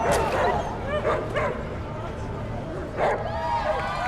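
Dogs fighting in the post-apocalyptic RPG ATOM RPG: repeated snarling barks and sharp yips amid game combat noise, with a voice talking over them.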